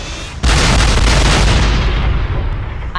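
Naval guns on a warship open fire together in a massive, sustained barrage, a loud booming roar that starts abruptly and rumbles on for several seconds, action-movie style.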